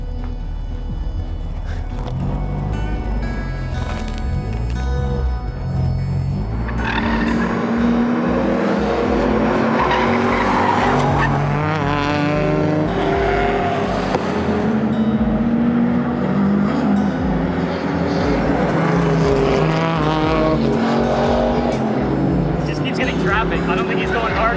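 K-swapped Honda Civic lapping a race track during a Gridlife HPDE session, a steady loud engine drone running throughout with shifting revs, with talk over it for much of the time.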